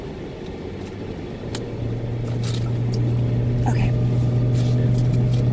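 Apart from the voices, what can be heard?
car accelerating up a hill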